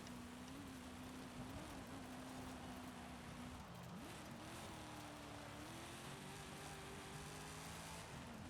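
Engine of a 1940 Ford Deluxe in Forza Horizon 5 droning steadily through a B Class volcano rally run, pitch rising and dipping with shifts and throttle, a constant close-up motor tone with no talk.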